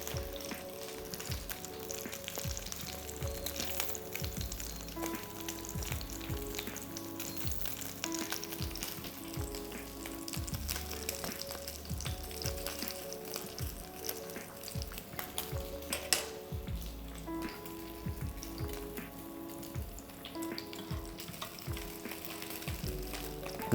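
Salmon fries skin side down in a hot pan, a continuous close sizzle and crackle with occasional faint clinks of utensils, no talking.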